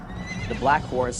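A black horse neighs in two rising whinnies over a steady background, with a low murmur of a voice beneath.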